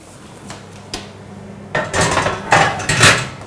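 A baking dish of cheese blintzes goes into a hot oven: a few light clicks, then clattering metal-on-metal clanks and bangs as the rack and oven door are handled.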